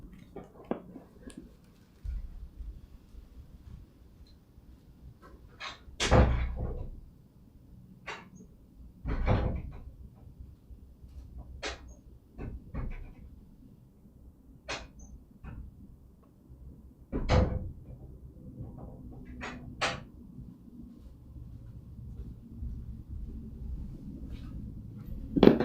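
A door knocks and clunks several times at irregular intervals, each a short, fairly close thud over a quiet room background.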